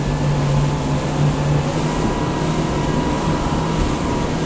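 A Saxdor 320 motorboat cruising at about 22 knots with the engine near 4000 rpm: a loud, steady engine roar with a low hum, mixed with rushing water and wind noise, and no voices.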